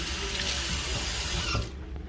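Scummy water from a pot that held boiled beef liver pours into a sink in a loud, continuous rushing stream up close, then stops abruptly near the end.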